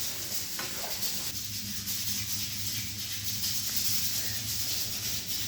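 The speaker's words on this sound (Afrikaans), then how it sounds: "Ek gaan gou die vulling roer." Filling for farm bread pork chops being stirred, a continuous scraping, rubbing swish in a pot with a steady hissy texture and no talking.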